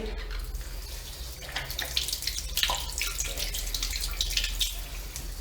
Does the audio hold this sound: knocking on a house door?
no